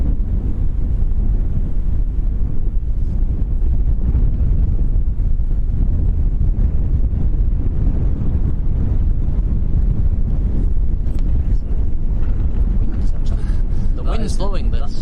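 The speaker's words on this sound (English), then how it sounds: "That is the wind blowing the camera there, guys." Strong wind buffeting a camera microphone outdoors at Lanzarote Airport in the Canary Islands, a loud, continuous low rumble with irregular gusty thumps throughout, and brief crackling bursts near the end.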